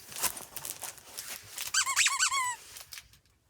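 A dog chomps a squeaky turtle plush toy with several squeakers inside, giving a quick burst of shrill, wavering squeaks after some rustling, close and fairly loud, then quiet.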